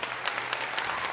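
A crowd applauds in a dense, steady patter of many hands clapping for a short burst, with no voices standing out.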